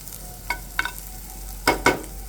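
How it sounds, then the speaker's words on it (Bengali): Two local garlic cloves reddening in a pan give a faint, steady sizzle. Four or five quick, close spatula scrapes cut through it, two of them in a sharp pair near the end, with no voices. "আমি কিন্তু দেশি দুটো রসুন এই যে ভেজে নিলাম"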